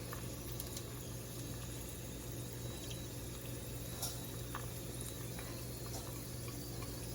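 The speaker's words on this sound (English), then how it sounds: "We've heated up some canola oil till it's nice and hot, and we are placing our dumplings in that oil." Dumplings (broccoli coconut wontons) laid in a single layer in hot canola oil, giving a steady, dense sizzle and bubbling that runs without a break at moderate volume, with no talking.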